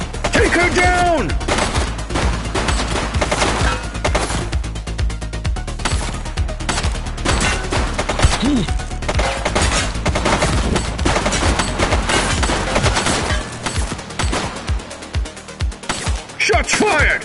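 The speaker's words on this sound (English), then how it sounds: "Shots fired!" Heavy gunfire in The Precinct police game: dense bursts of shots and rapid automatic fire run almost continuously, with brief pauses, while voices call out over the shooting.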